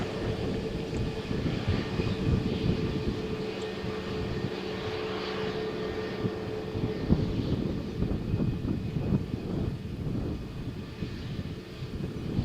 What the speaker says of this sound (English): Pilots are focused for takeoff. Last checks. All engines on.